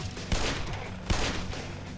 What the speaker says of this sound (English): Uh-oh. I hear a turret.